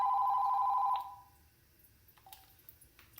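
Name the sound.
telephone ringing with an incoming call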